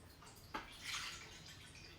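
Water poured into a pan resting on a kitchen scale for melt-and-pour soap making, a gentle, steady trickle and splash that swells briefly then settles into a quiet, continuous flow.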